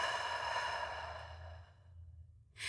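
A slow, soft exhale through the mouth during a guided breathing exercise, a long airy sigh that fades out over about two seconds, close and quiet, with no talking.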